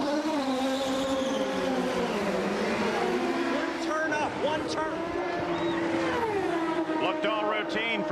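An Indy race car pulls away from the pits after refueling during the 1995 Indianapolis 500, its engine droning and rising in pitch under continuous commentary, with other cars whining past in the background.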